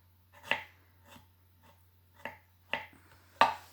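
A kitchen knife carving a carrot into a whistle, heard as five or six separate sharp cutting clicks and crunches at irregular intervals, close and fairly quiet with a low steady hum underneath.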